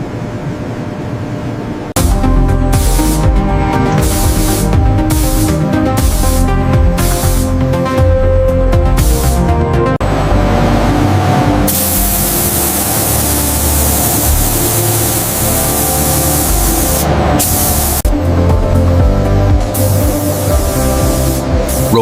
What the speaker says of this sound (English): In the surface finishing chamber, automated sprayers apply protective coatings.